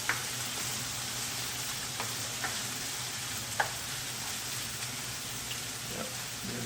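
Potatoes and sardines fry in a hot pan with a steady, close sizzle and crackle. A few faint clicks and ticks sit on top, and nobody speaks.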